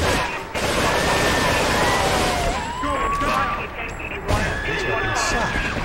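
Dense gunfire from weapons in Grand Theft Auto III crackles continuously near a police station, with sirens and game effects mixed in and voices talking over it.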